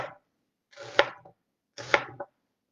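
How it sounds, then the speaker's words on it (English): A food processor chops soy curls in two short pulsed bursts, each a loud whirring clatter lasting about half a second, separated by silence. "Then chunk it up a little bit in the food processor."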